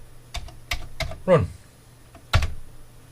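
Keystrokes on a Commodore 64 keyboard under repair, a handful of sharp clacks spaced unevenly, with one louder sweeping sound in the middle, close and fairly quiet, beside a brief spoken word.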